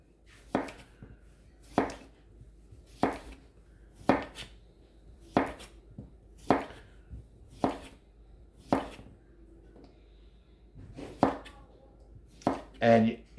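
A knife chops cucumber on a cutting board for a spicy Korean cucumber salad, with about a dozen crisp, evenly spaced cuts landing roughly once per second and a quicker burst at the end, close and clear over near silence.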